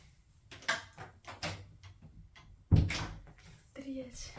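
A single thud of a household door being shut lands midway, short and fairly close, with a voice talking before and after it.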